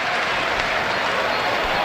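A football crowd at a Coventry City FA Cup match against Oxford United breaks into loud, sustained applause and cheering that fills the whole moment, with a commentator's voice faintly mixed in.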